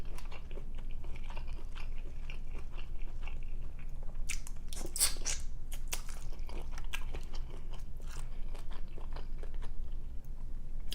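King crab and shrimp from a seafood boil are bitten and chewed close to the mic, with wet crunches and cracking shell clusters over a low steady background hum.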